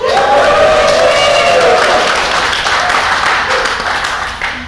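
A live audience at a panel event on social media fandom bursts into loud, sustained applause and cheering, a dense wash of clapping and shouts that slowly tapers off over several seconds.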